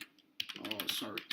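Keystrokes on a faulty computer keyboard, a quick run of close, clicky taps that starts after a quiet moment and clatters on with a few louder strikes near the end.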